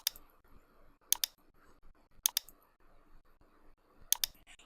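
A computer mouse clicks four times, sharp isolated double clicks spaced about a second apart over a quiet room hush.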